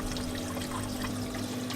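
Reef aquarium pump pushing out water and bubbles, a steady trickling, pouring gurgle with a low constant hum underneath, close and fairly quiet, no one talking.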